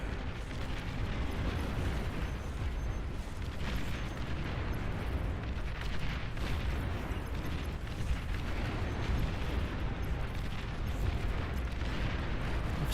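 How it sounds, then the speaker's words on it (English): Dense, continuous barrage of artillery blasts and rumbling explosions from a large real-time strategy battle in Beyond All Reason, booming steadily and loudly throughout with no pauses. "So much artillery."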